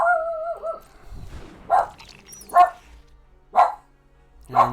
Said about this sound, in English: so my dog is freaking out. Really, dog? Really?